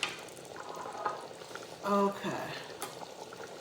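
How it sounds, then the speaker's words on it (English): Pasta water boils in a Ninja Possible Pro Cooker, a steady bubbling and hiss from the pot, with a brief voice speaking over it and a short tone partway through. "So now it is boiling. Definitely boiling here."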